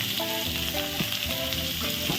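Urad dal, onion, green chilli and ginger fry in hot oil for upma, giving a steady close sizzle with a few brief stirring sounds and music playing quietly underneath.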